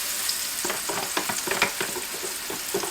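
Whole and thick-sliced mushrooms frying in a pan for a beef medallion mushroom sauce, a steady close sizzle broken by a run of irregular scraping and stirring clatters.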